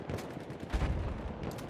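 Rapid gunfire in the World War I shooter Battlefield 1, a dense burst of shots with a heavier low thump near the middle, loud and close throughout the short stretch.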